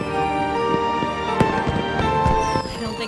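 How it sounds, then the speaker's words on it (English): Fireworks in a video game, a run of muffled pops and crackles scattered over a steady musical background, moderately loud with no talking. "I've never seen fireworks from a place like this before."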